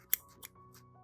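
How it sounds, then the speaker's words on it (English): Sharp scissors snip through paper towel with a light touch, giving one crisp close cut followed by two softer snips spaced out over a second, over faint background hum. "A sharp pair of scissors cut through the paper with just a light touch"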